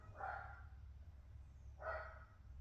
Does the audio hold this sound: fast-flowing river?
no